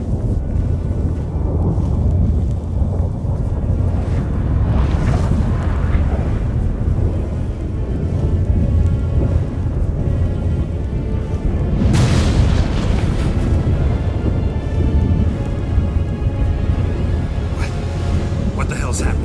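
A sudden storm in The Witcher 3: Wild Hunt, with loud deep booms and rolling thunder-like rumbles, two big surges standing out amid continuous low roaring, while characters talk over it.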